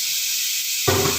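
Pot of water heating for lasagna sheets, a steady broadband hiss of steam that thickens into a louder, fuller rushing as the boil comes on, close and continuous.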